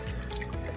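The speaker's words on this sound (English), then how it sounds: "Now to do a reset, I just put it back underwater and shake it." A gold pan of sediment is dipped back underwater and shaken to reset it, giving a brief, soft watery slosh with faint dripping.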